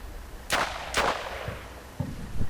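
Gunfire from a rooftop in the war game Combat Mission Shock Force, German NATO forces: two sharp, loud shots about half a second apart with ringing echoes, then duller distant thuds and impacts trailing after.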